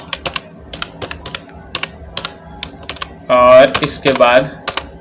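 Computer keyboard typing while writing CSS code: light, quick keystrokes in irregular bursts, fairly close, followed by someone speaking briefly over the clicks.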